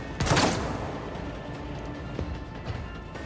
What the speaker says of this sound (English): Good shooting at point blank range with your pistol